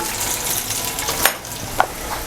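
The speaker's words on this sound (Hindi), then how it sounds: "आलूओं को अब हम फ्राई करते हैं ताकि ये अच्छी तरह गल जाएं" Long-cut potatoes fry in ghee in a pot, giving a steady sizzling hiss close up, with two sharp stirring clinks breaking through partway.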